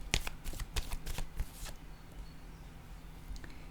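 Tarot cards being shuffled, a quick run of crisp riffling flutters for about two seconds, then quieter soft card handling with low background hum.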